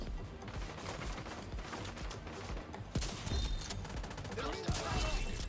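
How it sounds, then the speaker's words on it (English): Sustained gunfire rattles through a firefight in The Division 2, with dense bursts layered over a busy game soundscape and sharper shots punching through near the end. "Opening fire!"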